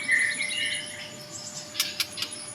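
A songbird sings clear, high chirps and trills in short phrases, close and bright, followed by a few sharp separate notes over a faint steady background hum.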